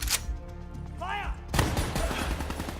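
Gunfire in the video game Call of Duty: Black Ops III: a burst of sharp, loud shots cracking over a steady background of battle noise, with a brief whooshing tone just before.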